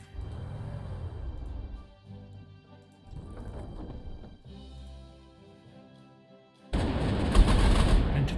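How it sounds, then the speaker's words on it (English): Tank guns firing in the Panzer Corps 2 war game, several booming shots with decaying rumbles, then a loud burst of crackling gunfire at the end, no talk. "Tank gun."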